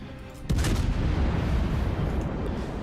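Naval shell fire in World of Warships from a heavy cruiser: one sharp, loud boom goes off after a brief quiet and then rolls on as a sustained low rumble.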